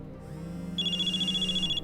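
A telephone rings in Nancy Drew: Mystery of the Seven Keys, one steady electronic trill holding for about a second over a soft musical backdrop, fairly close and clear.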